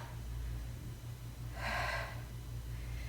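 A single audible breath, a soft airy inhale-exhale, rises midway through a quiet yoga half moon flow over a low steady hum, close and gentle with no talking.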